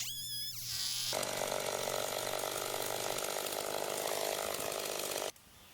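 A chainsaw mini mill rips lengthwise through a log, the saw snarling loud and steady at full throttle for several seconds after a brief idle and rev-up, then cutting off abruptly.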